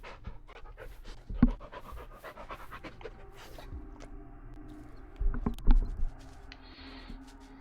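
A dog in the Blair Witch video game pants in quick, rhythmic breaths through much of the stretch, close and steady, with a few louder thumps and game noises breaking in.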